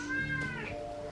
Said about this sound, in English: my cat is bored and is being disruptive